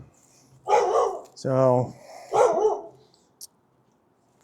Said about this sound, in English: My neighbor's dog.